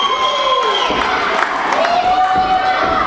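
A live wrestling crowd cheers and shouts in a steady, loud roar filling the arena, with a commentator talking over it.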